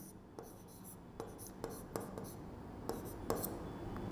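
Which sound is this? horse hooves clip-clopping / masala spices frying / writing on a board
writing on a board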